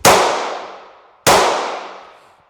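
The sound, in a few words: gunshot from a small, light .45 pistol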